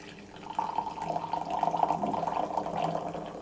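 Rose tea with loose petals poured into a cup, a soft trickling, splashing stream that starts after a brief pause and continues steadily, fairly quiet with no talk.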